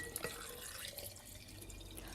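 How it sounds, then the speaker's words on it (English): Water poured from a tap into a jar holding seven pitted Medjool dates, a faint trickle with a few soft drips, heard close and quiet throughout. "So I'm going to add some water,"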